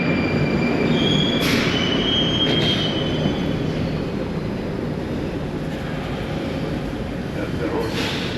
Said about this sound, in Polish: To jest stary tramwaj, raczej metro.